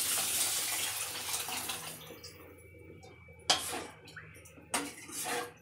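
Prepared tamarind rasam being poured straight into a cooking pot, with a steady liquid splash at first, then a couple of sharp clinks of metal vessels and utensils nearby.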